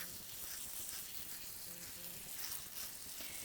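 Water sprinkles over rosemary seedlings set in soilless mix, a faint, steady hissing patter close by, with no voices.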